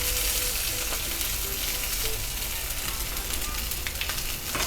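Rack of lamb sizzles and fries steadily in a hot pan, a dense, even crackle holding at a constant level from start to finish with no talking.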